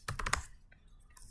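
Quick typing on a computer keyboard while writing C code: a fast cluster of four or five close, crisp key clacks, then a pause and a couple of softer, fainter taps.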